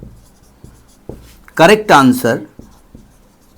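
A teacher writes out a probability answer, making a series of short, sharp taps and strokes spaced irregularly across the moment. The sounds are close and fairly quiet, with a brief spoken word in the middle.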